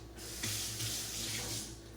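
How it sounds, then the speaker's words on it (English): Running tap water splashing over green onion as it is rinsed in a sink, a steady close rush of water that briefly shifts as the stalks pass through the stream. "Rinse the green onion."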